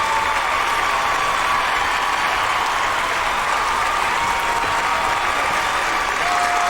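Canned applause plays as a sound effect, a dense, steady wash of clapping from a large crowd that holds at an even level throughout with no voices over it.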